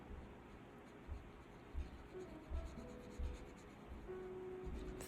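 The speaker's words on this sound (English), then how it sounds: "when I color, I try to tickle the paper" Pencil coloring on paper with light, gentle strokes, a soft faint scratchy rustle with a few slightly louder low brushes, near and quiet with no talk.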